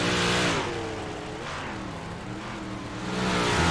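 A Big Block Modified race car on a dirt track thunders through turns 3 and 4, its engine roaring loud and steady with rising and falling revs as it swings around the corners.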